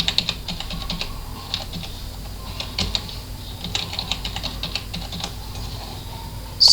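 A password typed on a computer keyboard: a steady run of quick, close keystroke clicks with small pauses, a louder key press at the very end, and no voices.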